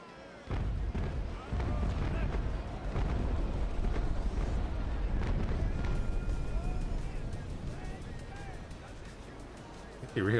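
Broadside cannon fire from sailing warships in the naval combat game Naval Action, a dense rumble of repeated booming shots with sharp transients layered over continuous low sea and battle noise, heavy and close throughout.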